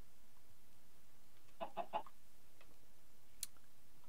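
A coral-infested chicken in Minecraft with the Abyssalcraft mod gives a short burst of three quick clucks, then a single sharp click a moment later, faint against a quiet background with no talking.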